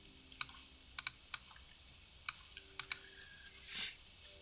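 Sparse computer keyboard keystrokes, about nine crisp separate clicks in irregular rhythm, close and fairly quiet, with a soft whoosh near the end and no talk.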